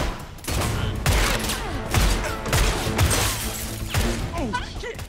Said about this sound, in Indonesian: Di tengah aksi baku tembak